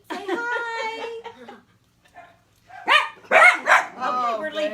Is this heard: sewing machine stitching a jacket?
no